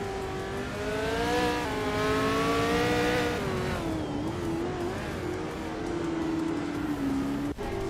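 Loud, continuous engine note from a 1969 Legrand Mark 11 race car in a racing video game, revving and shifting with a wavering pitch, close up, ending in a sharp click, with no voices.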